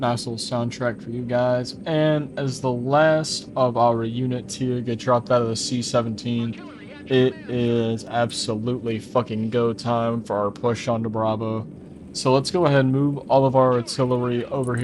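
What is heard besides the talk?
None of the usual background noises is heard.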